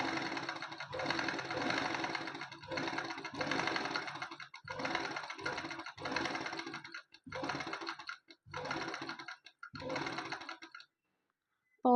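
A sewing machine stitches straight lines of machine embroidery in repeated bursts of rapid, close clattering, each run separated by short pauses, ending in silence.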